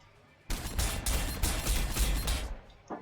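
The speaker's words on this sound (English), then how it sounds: "We'll just take some little crappy shots at that." Rapid gunfire in Warhammer 40,000: Sanctus Reach, a dense, loud volley of overlapping shots lasting about two seconds after a quiet start, then cutting off to near silence.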